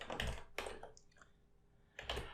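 Computer keyboard typing in short bursts, with a clustered run of clicks at the start, a quieter gap, and another burst near the end, close and fairly soft.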